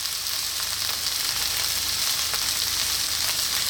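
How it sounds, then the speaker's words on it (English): Spinach sizzles and fries steadily in a hot pan over high heat, a close, continuous hiss and crackle with no voices. "really important to give it a nice fry, especially the spinach, on a high heat"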